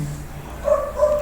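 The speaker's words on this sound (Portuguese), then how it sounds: "o cachorrinho quer participar da nossa aula" A small dog at home gives two short, high yips close by, the first around the middle of a brief stretch and the second near the end, over a quiet room during an online class.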